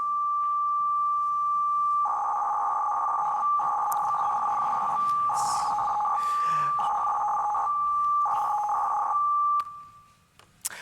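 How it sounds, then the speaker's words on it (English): FSK-modulated radio control signal for street lamps, a steady modem-like tone that keeps switching between pitches in bursts over a constant carrier, loud and alone, cutting off near the end. "it sounds a bit like a modem. In fact, it's an FSK modulation"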